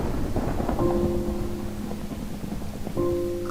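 A thunderstorm in the Minecraft video game near a swamp biome: steady rain hiss with low rumbling thunder, and brief tonal notes sounding over it twice.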